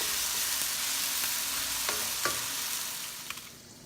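Tomatoes fry in a hot pan with a steady, close sizzle and a few light stirring knocks; the hiss slowly softens toward the end.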